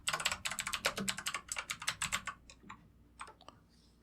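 Rapid computer keyboard typing while a web contact form is filled in, a dense run of crisp key clicks for about two and a half seconds, then a few scattered taps trailing off, close and alone.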